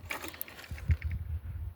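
A bearing puller tool grinds and ratchets against its tip while pulling the front wheel bearing from a 1981-1983 Ford EXP/Escort, giving close, uneven mechanical scraping and clicking pulses with no talking.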